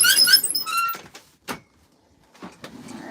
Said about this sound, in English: Don't mind my squeaky ironing board